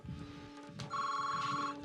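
A telephone rings nearby in an Indian TV drama scene, a bright trilling electronic ring that starts partway through over a low background hum and continues steadily to the end.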